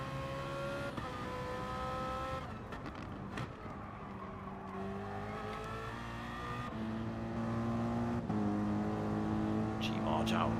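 Gr3 race cars circling Brands Hatch in a racing video game, engines droning and shifting pitch steadily throughout, with a commentator talking over the engine noise.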